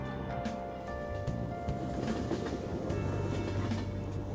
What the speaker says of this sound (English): While we're riding the train, we've got some downtime.